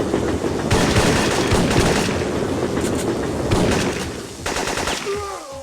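Rapid automatic M16 rifle fire in the Syphon Filter video game, loud sustained bursts of rattling shots in a subway setting, broken by short pauses, ending on a fading ringing tail.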